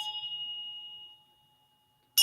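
One bell strike with a clear, sustained ring that decays gradually into silence over about a second and a half, followed by a sharp new bright tone at the very end.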